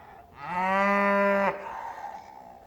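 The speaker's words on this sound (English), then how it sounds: "we have a wonderful team of Dexter cattle who are around here somewhere" A single long, loud moo from a Dexter cow on open downland, rising in and holding steady for about a second before cutting off, with faint outdoor ambience after.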